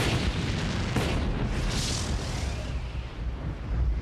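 A big explosion in a Space Precinct sci-fi TV episode: a loud, sustained roaring blast rumbles heavily for several seconds, with a brief sharper crack near the start and a hissing swell in the middle.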